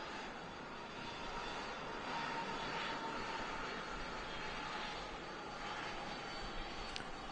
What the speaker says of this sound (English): First departure of the show, Air France Hop, heading back to Paris, Charles de Gaulle, the Embraer 190